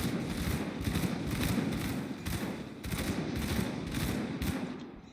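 Shotgun fire in the action role-playing game Grim Dawn, a rapid run of about ten repeated blasts at a steady rhythm over busy combat noise, moderately loud with no talk.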